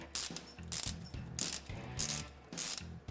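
Zip ties ratcheting tight on brake cable fittings, a run of rapid, close plastic clicks in four or five quick bursts with short pauses between, loud and alone.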